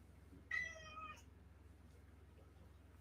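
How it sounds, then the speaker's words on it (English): Two house cats meow in a short burst of a few high, tonal cries lasting about half a second, moderately close, against a quiet steady room hum, followed by another brief cry. "You'll have to forgive my cats."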